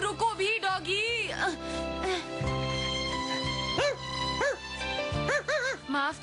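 A cartoon dog in Doraemon barks and yips in quick bursts between stretches of talk, with a plaintive whimpering tone, close and lively against a background of animated-show audio.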